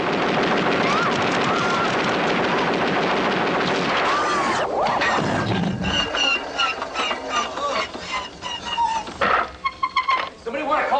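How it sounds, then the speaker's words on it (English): Prototype police robot in RoboCop firing guns at a victim in a room, a loud sustained burst of rapid gunfire, then scattered shots amid shouting voices and screams. "this prototype robot comes into the room and starts shooting at a victim"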